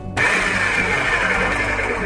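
A food processor starts abruptly and runs at a loud, steady whir as it purees silken extra firm tofu with vegetable broth and olive oil.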